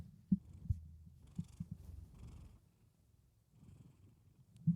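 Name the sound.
cat Bullet purring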